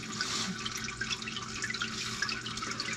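Transmission fluid drains from a 2005 American Eagle RV in a steady, close trickling pour, with small splashes and drips sounding over the continuous flow.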